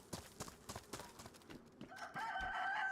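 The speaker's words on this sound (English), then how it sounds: "Listen, chicken." A chicken in DayZ clucks in a quick, steady run of short pecking notes, then breaks into a brighter, drawn-out call, moderately close over a quiet outdoor background.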